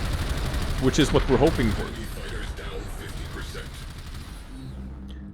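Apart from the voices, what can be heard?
gunfire shooting down fighters in the video game Warframe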